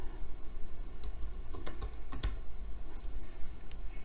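Rapid keystrokes on a computer keyboard while a student's name is typed, a sparse run of sharp clicks with brief pauses, close and clear over a low background hum, with no talking.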